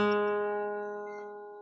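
A single plucked guitar note on the third string at the first fret, ringing clearly with a clean attack and slowly fading sustain, heard alone.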